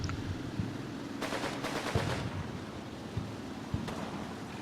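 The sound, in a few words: MP40 submachine gun firing in video game Combat Mission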